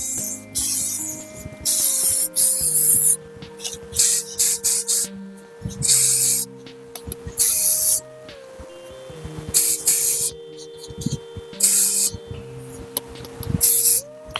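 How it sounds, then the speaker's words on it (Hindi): Schwarzkopf shine spray misted onto held hair in repeated short hissing bursts, roughly a dozen spaced evenly with brief pauses between, close and fairly loud over faint background music. "और इस पे स्प्रे करेंगे"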